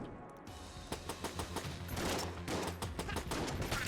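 Rapid gunfire from the bullet-hell video game Enter the Gungeon, a dense stream of sharp repeated shots layered over a steady game music bed, loud and continuous after a brief quieter opening.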